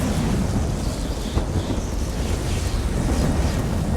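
Rumbling thunder rolls steadily from a conjured lightning storm in a video game, with a constant roar like wind and surf and no clear separate claps.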